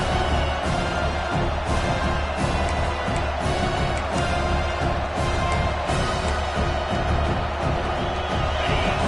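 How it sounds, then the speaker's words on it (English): A home football crowd roars and cheers in a stadium, a dense, loud and continuous wash of voices that holds steady throughout. "this home crowd is fired up and ready to make a difference today."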